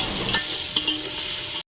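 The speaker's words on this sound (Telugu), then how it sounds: "ఆనియన్స్ ఫ్రై చేసుకునేటప్పుడు కొద్దిగా సాల్ట్ వేస్తూ ఉంటాను" Onions sizzle steadily with salt in a pan over a firewood stove for donne biryani, a close, continuous frying hiss with a few soft stirring scrapes, and no talk.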